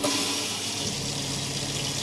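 Steady, broadband rush of water from a caravan shower running at good pressure in a Chausson Flash 515, close and continuous without a break.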